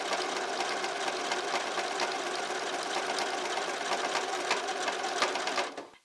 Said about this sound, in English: put your presser foot down and start sewing